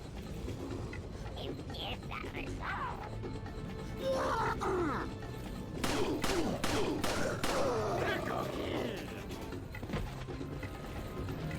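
Gunfire from the Resident Evil 4 video game, a short burst of several sharp shots near the middle amid a steady game soundscape of rumbling ambience and grunting.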